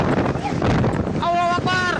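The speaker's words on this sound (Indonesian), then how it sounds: "Detik-detik angin puting beliung yang menerjang kawasan Jalan A.H. Nasution, Ujung Berung, Kota Bandung terekam kamera warga." Tornado winds roar at a street in Ujung Berung, Bandung, a dense buffeting rush with shouting voices rising over it near the end.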